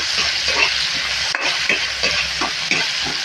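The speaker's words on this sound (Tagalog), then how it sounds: "lagyan na natin ang ating bawang ng pag-ibig" Garlic sizzling and sautéing in a hot pan, a steady bright frying hiss with repeated scraping stirs at a fairly even pace, close and loud, with no voices over it.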